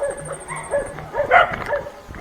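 A dog in a Jamaican home left damaged by Hurricane Melissa gives a few short yips and barks mixed with whimpers, close by, alongside faint high whistling.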